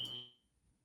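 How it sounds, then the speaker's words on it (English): A fire alarm under test gives a single short electronic beep that is loud and close, then fades quickly into near silence. "that's fire alarm testing"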